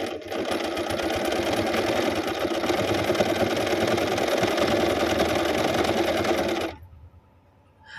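Portable sewing machine stitching a semi-overlock seam, a steady, close, dense mechanical whir that runs evenly for nearly seven seconds before stopping abruptly, leaving near silence.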